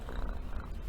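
Close, steady cat purr with a rapid low fluttering rhythm, heard alone as a sound effect.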